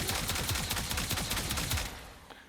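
Rapid bursts of automatic gunfire from the Tenent Tetra weapon in Warframe, punchy repeated shots in a quick rhythm over a noisy game backdrop, stopping shortly before the end.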